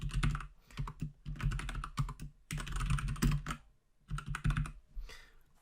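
Rapid bursts of computer keyboard typing, loud and close, in several runs separated by short pauses while entering Likert-style multiple choice answer options.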